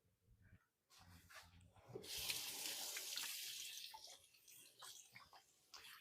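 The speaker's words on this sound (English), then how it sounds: "I'm gonna give my hands a quick wash" Running tap water splashes steadily into a kitchen sink as hands are washed, a continuous broadband hiss that swells after a brief start and holds to the end, with a dog barking faintly early on.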